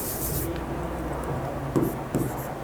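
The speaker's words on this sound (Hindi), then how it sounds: "यहां मैं लिख रहा हूं" Marker or chalk scratching across a classroom board during an English grammar lesson, a soft continuous rubbing broken by a couple of sharper strokes near the end, fairly close with no talk over it.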